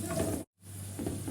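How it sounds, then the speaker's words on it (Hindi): Sliced onions sautéing over high heat in a pan for chicken stew, a steady close sizzle and hiss with a brief silent gap midway. "अब तेज़ आंच पे हम प्याज़ों को फ्राई कर लेंगे"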